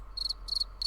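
Crickets chirp in short repeated bursts, three clear trills spaced evenly against a faint steady background hum, with no other sounds.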